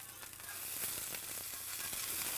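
Meatballs sizzle in a frying pan, a soft continuous crackle and hiss with scattered pops, heard alone at low volume.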